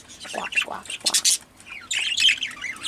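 A pet breeding bird, kept with others in a nest box setup, gives harsh, close squawks and scratchy chirps in uneven bursts with short pauses between them.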